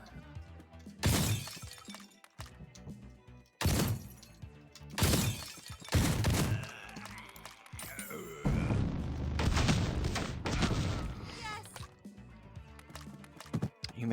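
Gunfire and crashing impacts from the Door Kickers: Action Squad video game come in sharp bursts, some loud and clustered, others scattered, over a continuous game soundtrack.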